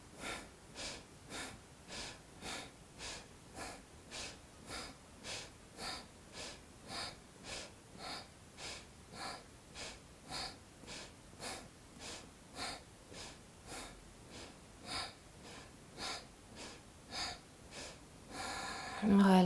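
Rapid rhythmic nasal breaths during a dynamic yoga breathing exercise in a women's yoga session, about thirty even forceful exhalations pulsing steadily for nearly twenty seconds, close and fairly quiet, with no talking.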